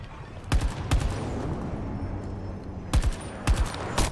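Gunshots in Battlefield 2042 over a steady background rumble of battle: a pair of sharp cracks, then a single shot, then two more close pairs, loud and near.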